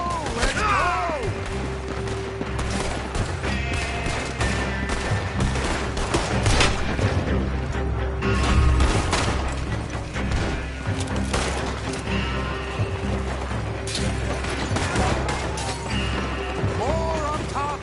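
Heavy gunfight in the Western game Red Dead Redemption 2, with rapid overlapping gunshots, loud cracks and crashes firing continuously, and shouted voices mixed in.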